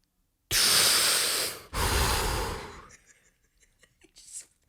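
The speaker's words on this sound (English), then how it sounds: "Those big deep breaths." Two long, loud breaths taken close to the mic, each a full airy inhale-exhale with a short gap between, then quieter breathing and small rustles afterward.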